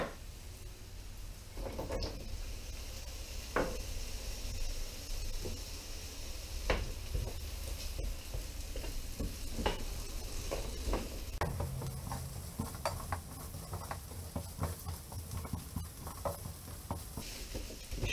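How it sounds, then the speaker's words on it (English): Onion and carrot are lightly frying in sesame oil in a pan, a steady, soft sizzle with scattered small clicks and stirring taps throughout, moderately close and without any talking. "just lightly fry the vegetables for a couple of minutes. Do the onion and the carrot first"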